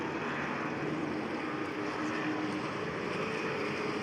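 Race car engines from the 2020 SCCA Runoffs Grand Touring class idle and murmur as they circle the track warming up, a steady, continuous low rumble filling the whole stretch with no talk over it.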